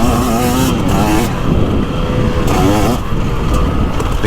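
A 2024 Beta 300 Race Edition two-stroke dirt bike pulls away, its engine note climbing and rising in pitch as it accelerates, loud and close throughout the clip with no talking.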